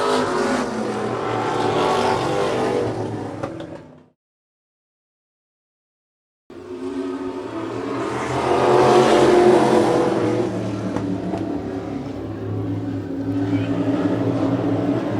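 Race cars roar around a track in a close, loud pass, their engines revving and droning. The sound cuts to silence for a couple of seconds, then another pack of cars rushes by at full throttle.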